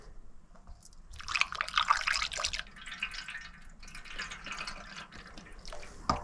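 Liquid product poured through a funnel into a small tank while recommissioning a Suzuki Van Van 125 motorcycle, close splashing and gurgling trickle in bursts, then a brief tap at the end.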